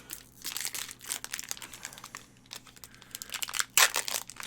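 Crinkly plastic wrapper of a Magic: The Gathering Theros Beyond Death booster pack being torn open by hand, irregular crackling and rustling bursts up close, with a sharper rip near the end.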